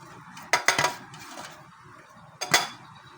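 Two spoons tossing a homemade vegetable salad in a bowl, giving a few sharp clinks and scrapes in two short bursts, close up, with quiet pauses between.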